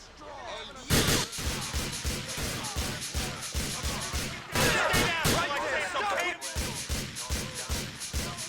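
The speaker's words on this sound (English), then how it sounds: "Shots fired, report," Rapid volleys of gunshots in Grand Theft Auto IV ring out loud and close, a dense run of sharp cracks that continues throughout under some speech.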